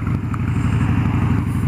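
A Harley-Davidson Softail Fat Boy with a 1450 V-twin engine runs close and loud, giving a steady, thumpy, low rumble with an even pulsing beat and no talking.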